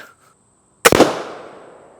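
A single sharp, very loud blast from a projectile launcher, like a gunshot, after near silence, followed by a long fading reverberant tail.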